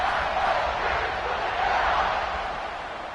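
A packed stadium crowd roars at a college football kickoff, a dense, sustained wall of cheering that stays loud and steady throughout before easing slightly at the end.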